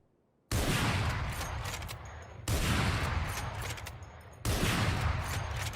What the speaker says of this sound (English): The Operator. This is your standard big boy sniper.